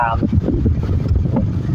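Air from a small electric fan buffets close to the microphone in a low, gusty rumble while someone talks over it.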